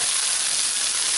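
Rice and vegetables fry in a hot pan for fried rice, giving a loud, steady sizzle that holds without a break from start to finish.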